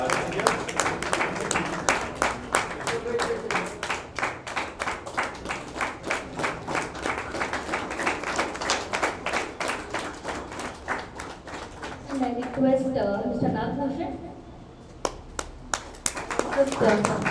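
An audience at a tech meetup gives sustained rhythmic applause and clapping for the speakers and guests, loud and close at first, then fading, with a voice talking over part of it.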